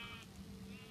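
A sheep bleats in a survival-mode video game, a short, quiet, steady tone of about a second with no talk over it.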